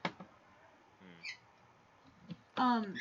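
A pet bird squawks indoors, with a few short harsh calls ending in a louder burst, faint over quiet room noise with no talking.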